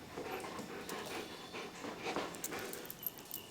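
Oki, a thick-furred Australian Shepherd, panting steadily at close range, a soft continuous rhythm of quick breaths with faint rustling and no talk.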